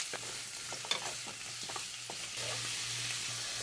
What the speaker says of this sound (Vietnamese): Khi khoai săn mặt thì mình cho cà rốt vào. Xào khoảng 3 phút nữa là được.